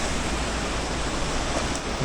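Rushing water in a Colorado alpine mountain gulch makes a dense, continuous broadband roar, loud and close, with no voices over it.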